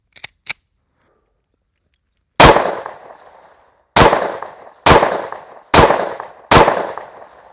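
Five sharp, loud pistol shots from a Beretta APX A1 Carry at an outdoor range, each cracking and decaying, spaced about a second apart after two faint distant pops at the start.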